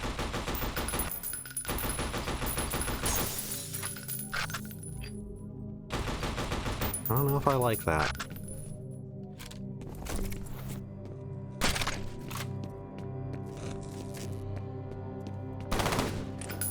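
Automatic gunfire from the VES advanced rifle in F.E.A.R., dense rapid bursts punctuated by pauses and sharp impacts, loud and close, with a brief spoken comment over the shooting.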